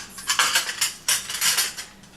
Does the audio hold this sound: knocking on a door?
no